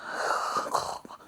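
A person snoring without an anti-snore mouth guard, giving a steady, close, raspy breathy rumble through the inhale that fades near the end, with a brief snort-like catch.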